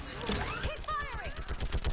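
Rapid gunfire crackles during a Mass Effect battle, dense bursts of automatic shots with whizzing, sweeping weapon effects and voices calling out over the fight.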